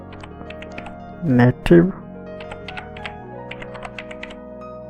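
Clicky computer keyboard typing close to the mic, a quick run of light taps with a couple of louder clacks, while someone speaks over it.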